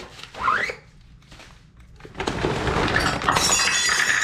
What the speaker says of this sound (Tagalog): Ay, sus sayang nabasag yung ano, wine glass.